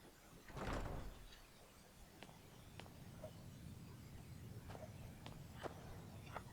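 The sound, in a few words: door opening in the video game Skyrim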